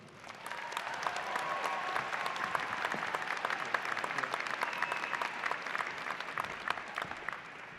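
Sustained applause from a commencement audience greeting a speaker as she comes to the podium, steady and dense clapping at moderate distance, continuing without pause for several seconds with no speech.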